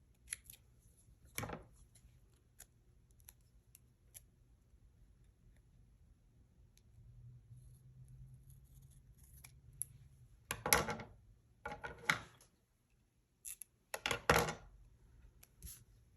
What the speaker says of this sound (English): I cut it in half so it's thinner.